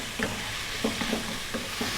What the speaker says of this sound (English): we're just going to just fry it around on this high heat